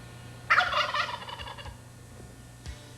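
An old wild turkey tom on a hillside in spring gives one loud, rattling gobble that trails off, followed by a fainter short call against low background hum.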